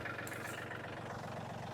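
A tractor engine idles and runs steadily, a low continuous rumble at moderate distance with no talk over it.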